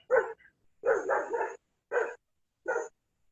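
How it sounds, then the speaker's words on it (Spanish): A dog barks several times nearby, loud distinct barks in an irregular sequence of four bursts separated by silence. "apaguemos los micrófonos que escucho un perro por ahí"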